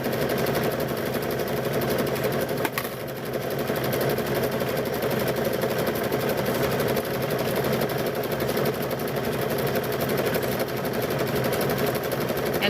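A sewing machine steadily stitches binding onto a quilt, a continuous fast mechanical chatter that runs unbroken for several seconds with no voices over it.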